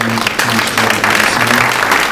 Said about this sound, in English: big round of applause for the CNS